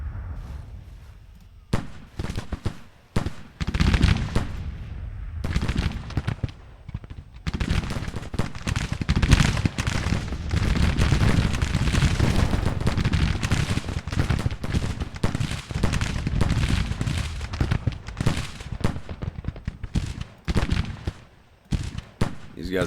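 Dense gunfire and artillery in a Civil War video game battle, with volleys of rifle shots and heavy booms crackling almost without pause for over twenty seconds, loud and close with distant rumbling layered underneath.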